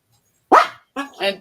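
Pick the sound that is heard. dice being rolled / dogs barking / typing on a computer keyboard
dogs barking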